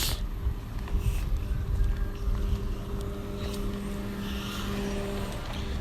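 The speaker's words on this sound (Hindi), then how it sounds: "बस गाड़ी आ रही है, गाड़ी साइड पे हो जाओ।" Car approaching along a narrow village road, a steady engine drone that holds close and loud throughout, with a faint background hum and no talking.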